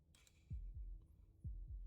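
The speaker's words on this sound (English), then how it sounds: "That was the sound of a heartbeat" Heartbeat in the game Slay the Princess, two deep low double thumps in a steady lub-dub rhythm, close and clear against a quiet background, with no voices.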